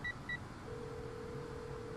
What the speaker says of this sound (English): Without thinking, I pull out my phone and dial the first name that comes to mind.